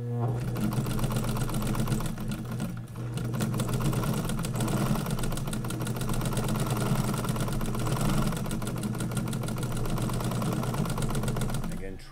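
A sewing machine stitches fabric for a laptop workspace bag, giving a fast, continuous mechanical whir and rattle that runs steadily at close range with brief slowdowns.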